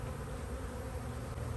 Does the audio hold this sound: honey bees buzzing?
yes